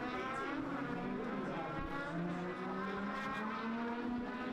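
Race cars roar steadily around Shenandoah Speedway during a practice session, several engines droning together with rising and falling pitch, loud and continuous, with no pauses.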